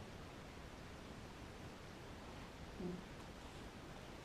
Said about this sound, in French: le bruit blanc qui va être créé vous permettra de passer à travers